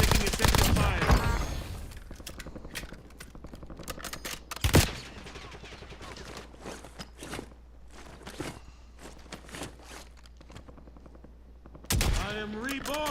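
Gunfire in Call of Duty Warzone on the Verdansk map, with sharp shots and bursts scattered through a dense, busy game mix, a few louder reports standing out, and voices talking over the action.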